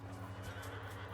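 A cavalry horse from Bretonnian knights in Total War: Warhammer 3 whinnies faintly in the distance, its brief neighs set against a steady low battlefield hum and murmur.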